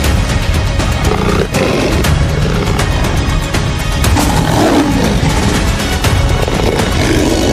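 Lions fight in the Tanzanian savanna, giving deep, rough roars and growls that pile up almost without pause for several seconds, loud and close.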